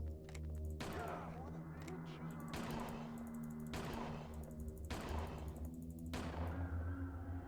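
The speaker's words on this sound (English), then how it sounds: "Just going to try and shoot him now that I can actually see him." Four loud revolver shots fired at a ghost in Silent Hill 4: The Room, each a sharp blast spaced about 1.5 seconds apart, over a steady droning game ambience.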